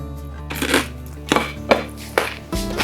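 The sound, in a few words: crunching crispy baked zapiekanka bread being bitten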